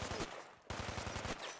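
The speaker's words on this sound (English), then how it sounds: "Why does it sound like they're shooting at me all the time?" Ballistic weapons fire in the game Fallout 4 in two quick automatic bursts separated by a short gap, each a rapid rattle of shots, close and sharp.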